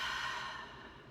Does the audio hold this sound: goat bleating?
no